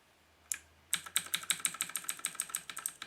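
Keys pressed on a JK-TECH E-Element Z-88 mechanical gaming keyboard, including function and arrow keys: a single sharp click, then a steady rapid run of about fifteen crisp clacks, close and clear, with no voices.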